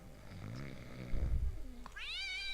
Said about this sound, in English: Who let that blasted cat in here?